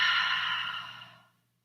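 One long breath out during a yoga and Pilates session, a soft airy exhale that starts strong and fades away to silence, close and alone.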